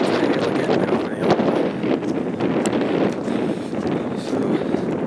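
Cold wind buffets the microphone on a breezy hilltop at Gaddings on a moorland walk from Littleborough to Walsden, a steady loud roar with gusty surges.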